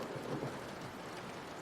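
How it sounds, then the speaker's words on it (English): A deep, continuous thunder rumble rolls under steady rain-like hiss, heard alone with no voice, in a story reading. "the omnipotent rumble of a thunder"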